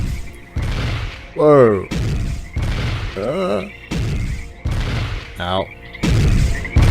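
Pistols fire a series of heavy, booming shots, roughly every second, loud and close. The shots are mixed with people's exclamations and talk.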